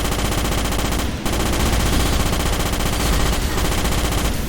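Rapid rifle gunfire in the Starship Troopers game, loud continuous automatic bursts with a short break near the start, no talk.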